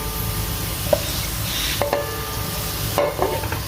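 Onions sizzle in hot ghee while a spoon stirs and scrapes the pan, with a few sharp clinks of metal over a steady frying hiss.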